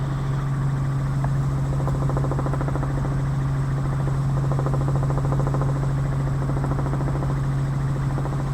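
Helicopter flying over Orly airport, heard from inside the cabin: a steady, loud rotor and engine drone with a strong low hum runs unbroken throughout, with no talking.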